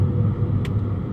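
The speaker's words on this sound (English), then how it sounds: "I'm going over some bumps now" A Volkswagen Vento 1.2 rolls over road bumps, heard from inside the cabin as a steady low rumble of tyres and suspension with one brief higher thud partway through.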